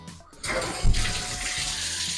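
Water runs from a shower tap inside a cultured-marble shower enclosure, starting abruptly as a steady broadband hiss with a brief louder gush early on, then holding a constant close flow.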